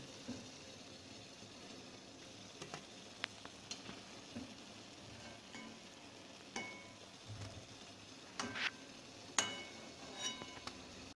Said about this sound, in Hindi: अब हम अच्छी तरह से तल लेंगे, चारों तरफ से अच्छी तरह से हम इसको घुमाकर तल लेंगे।